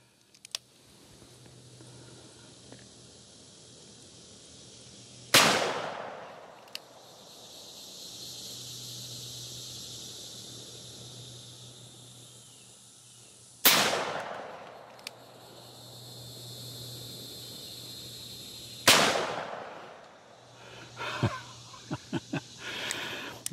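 A Ruger firearm with bent parts fires three sharp, loud shots at a can about ten yards away, spaced several seconds apart, with a faint hum and small clicks between them.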